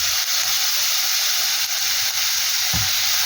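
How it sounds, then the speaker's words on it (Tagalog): Pork frying with onion for ginataang laing, a steady bright sizzle with a few soft pops and crackles, close and continuous. "Nagsisiputukan na lahat ng mga karne ng baboy."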